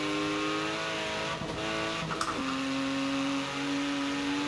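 A Porsche Macan rally-build SUV engine in Forza Horizon 4 drones at high revs, with a brief dip and gear change midway before climbing again into a steady, loud tone.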